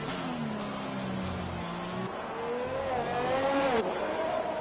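Race car tyres locking up under braking on a track in a racing video game, a tonal squeal gliding over the roaring engine note as it drops through gears.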